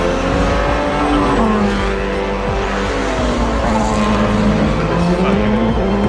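A Porsche engine drones loud and steady while the tires squeal in wavering bursts, with faint talk running underneath.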